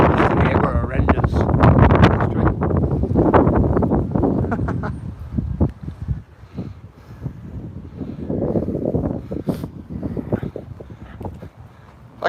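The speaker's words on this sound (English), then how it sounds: "How's this wind today? Is it bad?" Gusty wind buffeting the microphone on a morning walk beside the lake at Queen's Park, Blackburn, a loud steady roar that eases midway, with someone talking over it throughout.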